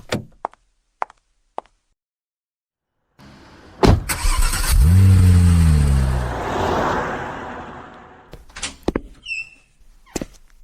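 A car door clunks a few times, then after a silent gap the engine starts with a loud crank and revs up as the car pulls away and drives, the roar fading before more thuds and clicks close out the scene.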